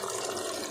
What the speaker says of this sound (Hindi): इसमें चने हम पानी के साथ ही डालेंगे